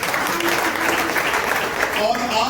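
Congregation applause in a church: dense clapping from a crowd, continuous through the short moment, with a voice faintly mixed in.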